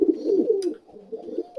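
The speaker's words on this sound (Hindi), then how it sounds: "बेसिकली पिजन्स कू कू नहीं करते मैना की तरह, वो गुटर कू करते हैं" A pigeon coos close by in soft, low, throaty rolling notes with a short pause between phrases, and no one talks.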